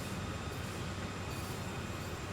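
A train rumbles steadily on the Sand Patch Grade in Train Sim World 2, a dense continuous roar of wheels and rail noise with no pauses or voices.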